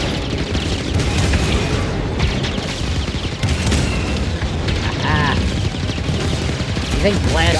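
Star Wars Jedi Fallen Order gameplay is a dense barrage of blaster fire, booms and explosions, loud and continuous, with a person talking under the chaos.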